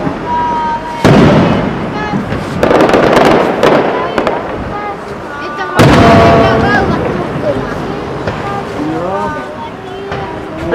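Fireworks at the Kuopio Christmas opening, with loud booming bursts and crackling echoes rolling across open space in several waves, while people chat quietly nearby.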